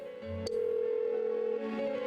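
A telephone rings unanswered inside a video game, a steady electronic tone held for about two seconds after a short click, fairly loud and alone with no one speaking.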